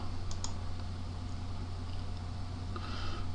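Keys on a computer keyboard are tapped to enter a class name, a few faint, quick clicks over a steady low hum, with no talking.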